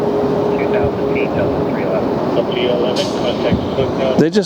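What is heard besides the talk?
Airbus A321neo jet airliner taking off at LAX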